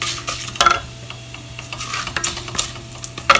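Spices sputtering in hot oil over a low flame while tempering for spinach kadhi, a steady sizzle broken by a few sharp crackles and pops, close up with no talking.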